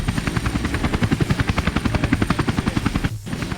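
A police helicopter in Tony Hawk's Underground chops loudly with fast, even rotor beats that carry steadily over a continuous engine drone, with one brief dip near the end.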